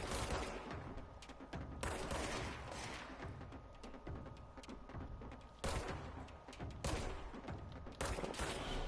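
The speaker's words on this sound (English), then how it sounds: "Just keep shooting." Dense gunfire rattles through a firefight in the video game Control, with continuous loud close shots and heavy blasts in surging waves over several seconds.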